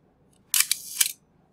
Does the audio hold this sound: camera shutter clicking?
yes